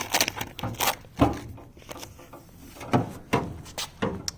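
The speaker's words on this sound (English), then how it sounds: "So it's got this giant door on the front" The large front door of a strange 25-inch metal candy cabinet is worked open and shut, giving a run of close, sharp metallic clunks and rattles with brief scraping in between, loud and uneven in rhythm.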